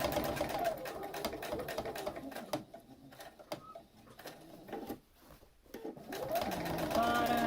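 A sewing machine stitches a fabric mask in rapid mechanical bursts, running loud, slowing and pausing midway, then speeding up again, with a voice talking over parts of it.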